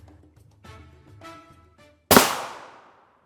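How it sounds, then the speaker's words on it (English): A single sharp, loud rifle shot strikes a Hesco 4800 NIJ Level IV armor plate, its crack followed by a decaying ring, after quieter handling noises and muffled activity. "We'll place this first shot in the upper left portion of the plate"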